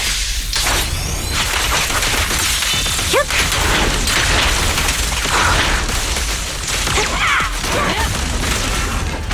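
Gunfire in the video game Zenless Zone Zero, a dense loud barrage of shots and whooshing impacts mixed with game effects throughout.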